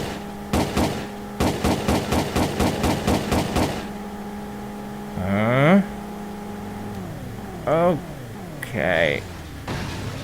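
Rapid gunshots from a gun in the PS1 video game World's Scariest Police Chases, a fast regular burst of about a dozen shots, then engine revs and swerving vehicle sounds.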